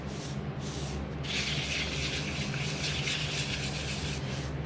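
Sanding the painted edges of a wooden wagon by hand, with continuous close rubbing and abrasive scratching strokes, one brief pause near the start and no talking.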